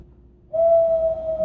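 A man imitates an owl with his voice: one steady, clear whistle-like hoot that starts abruptly and holds close and loud to the end.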